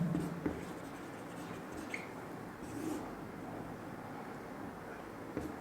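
Chalk or marker scratching across a classroom board during a physics lesson, soft, steady strokes running throughout with a few brief taps, quiet and close against a low room hum.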